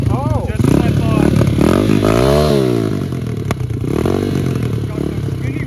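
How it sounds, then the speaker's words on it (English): A small motorcycle with skinny wheels and a makeshift carburetor doing a burnout, its engine revving hard with sweeping pitch as the rear wheel spins, loud and continuous throughout. "Try to do a burnout real quick."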